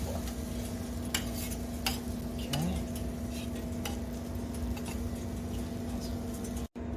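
French toast frying to golden brown in a pan gives off a soft, steady sizzle, with a few faint clicks and ticks scattered over it and no voices.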